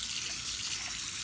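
Rinse water from a bowl of purple Irish moss, a sea plant carrying sand, is poured out in a steady, continuous wash of splashing liquid. The pour is close and fairly even for its whole length, with no talk.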